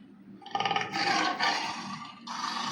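A recorded tiger roar played from an animal flash card toy, one rasping, growling roar that swells, breaks briefly and resumes, heard close with slight tinny playback quality and no talking.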